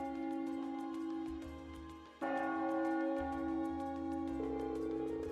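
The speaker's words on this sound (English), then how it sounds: "That must be the chime to mark the noon hour. Yeah, that's Heimdall Cathedral's bell." A cathedral bell in Heimdall, heard in the game Trails of Cold Steel, chimes the noon hour with repeated ringing strikes. The long tones overlap, and a fresh louder peal swells in partway through over a steady musical bed.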